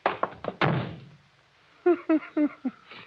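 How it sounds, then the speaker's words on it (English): A door is slammed shut in an old radio drama: a few sharp, loud thunks and knocks up close, with a decaying rumble after the last impact, followed by short voiced sounds. "You shouldn't have slammed the door, Crane."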